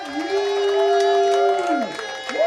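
At a celebration of life for Doug, a crowd cheers and shouts together in a loud sustained whoop that swells and then tapers off.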